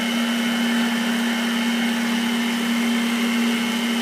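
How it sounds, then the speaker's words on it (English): Electric mixer churning rum and raisin ice cream with coffee, a steady close motor whir with a strong constant hum that holds unbroken from start to finish. "Then the mixer will do the rest, alright?"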